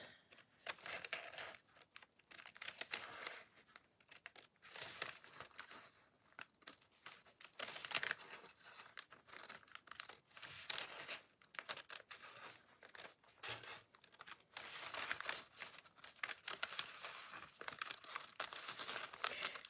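Scissors snipping and paper crinkling as a design is carefully cut out for decoupage, soft close sounds coming in irregular bursts with short pauses between them.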